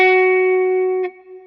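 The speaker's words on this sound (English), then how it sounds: "Strike the G at the 11th." Electric guitar with distortion and reverb striking the G string at the eleventh fret, one bright sustained note ringing close and loud, then dropping off sharply with a small pick noise just after one second.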